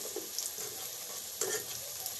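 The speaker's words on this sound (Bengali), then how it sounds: "এখন আমি আলুগুলো হালকা ভেজে নিব, ব্রাউন কালার করে" Potatoes frying lightly in a pan, a continuous close sizzle with occasional sharper crackles and stirring scrapes, no talking.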